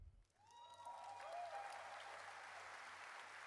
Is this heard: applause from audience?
yes